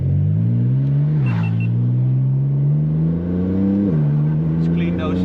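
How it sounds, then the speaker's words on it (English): A car launches hard inside a tunnel with launch control engaged, its engine note climbing steadily with a brief dip at each gear change, loud and close with strong echo, no talking over it. "And then do a launch control in the tunnel."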